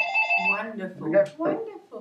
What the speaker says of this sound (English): Excuse the phone in the background.